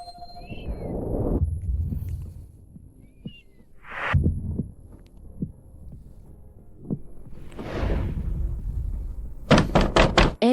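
Knocks on a door come in separate bursts, with a fast run of sharp, loud raps near the end. Low throbbing thumps fill the spaces between them, and no one speaks.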